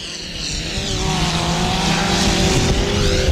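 Hot rod race car at the 1996 All Ireland Hot Rod Finals in Ballyduff, West Waterford, engine roaring louder as it approaches along the track, a rising, rasping drone with no voices.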